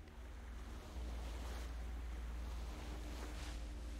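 Sea waves wash steadily around a ship on open water in the video game Guild Wars 2, a constant rushing surf with a deep rumbling bed and soft wind, no voices.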